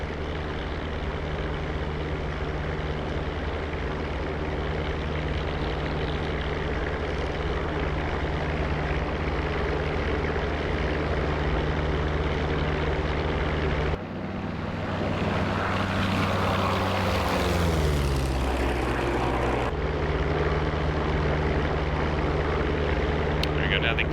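A P-47 Thunderbolt's engine drones loudly and steadily as its landing gear retracts. Midway, the tone shifts with a whining, falling sweep for several seconds, and a voice talks over it.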